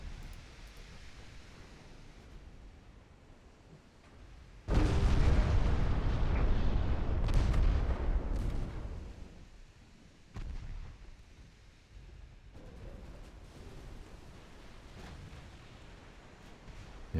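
Main guns of a 1913-era French battleship fire in a naval strategy game, a loud broadband boom that holds for several seconds before rumbling down into quieter, fading distant blasts.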